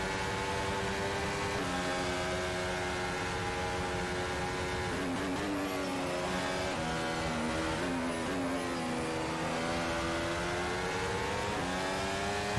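A race car in a sim racing game revs hard on the exit of a hairpin at a Japanese circuit, wheels spinning. The engine note rises and falls steadily and loudly, with no talk over it.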